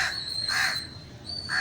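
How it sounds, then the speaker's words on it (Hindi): A crow caws three times in a steady rhythm, fairly close and clear, with a faint constant high whine in the background and no talking. "अब ये कौवे को पता नहीं क्या मसला हो रहा है"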